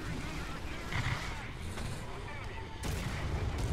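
Heavy cannon fire from a tank shooting at an M18 Hellcat tank destroyer in a tank battle game, a dull boom rising from a steady rumbling engine and battle din, with a sharp blast near the end.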